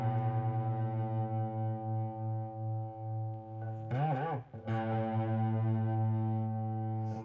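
A guitar's sixth string is detuned to drop D while its seventh fret is sounded against the open fifth string, producing a steady sustained pitch with a wavering bend in the middle; no voices.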